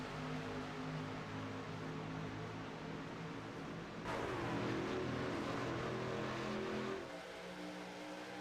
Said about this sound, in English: Logan Helton in the 63 picks up the throttle, and away we go in that drag race down to turn number 1